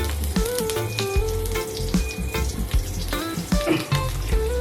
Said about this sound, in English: stir fry the garlic